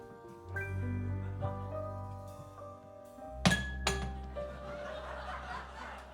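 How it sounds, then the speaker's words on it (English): Glass falls and breaks during a live cabaret song, heard as a sharp clinking crash with a second smaller clink over sustained piano or organ tones, followed by some audience laughter. "Down fell the glass."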